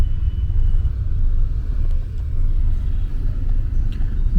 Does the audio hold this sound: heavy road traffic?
yes